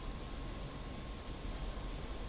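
Steady jet roar from an F-86 Sabre at full power in the DCS flight simulator, a continuous broadband rush with a thin high whine running unbroken throughout, fairly quiet and with no talk over it.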